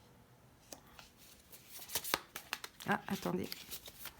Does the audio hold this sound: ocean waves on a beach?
no